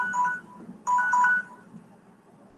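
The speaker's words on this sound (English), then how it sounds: "Hold on for a second, I got a phone call." A phone gives an incoming-call ring. The electronic tone plays in two short bursts, the second one longer, over a low room hum.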